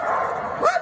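A twelve-year-old German Shepherd mix gives a single close, loud bark that rises at the end like a short yelp.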